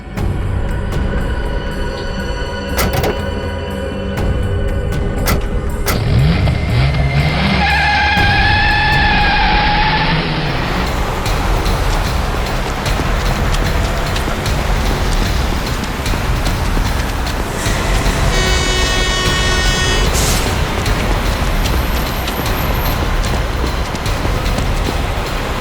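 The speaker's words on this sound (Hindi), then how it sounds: "अबे गाड़ी भगा, तेज चला।" A car speeds away in a getaway scene of a Hindi crime drama, a loud continuous rumble of engine and road roar with passing whooshes and brief higher tones, steady throughout with no talk.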